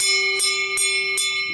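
Loud, piercing bell with a steady ringing tone, struck three times at an even rhythm, close by and alone.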